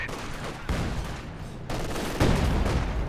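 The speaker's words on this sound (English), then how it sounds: "There's another SU-76 barrage." SU-76 artillery barrage in Company of Heroes 2, a dense volley of loud blasts and crackling impacts landing in quick succession, with a sharper burst near the end.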